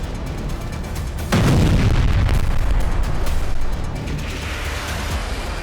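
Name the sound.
Houthi Palestine missile being fired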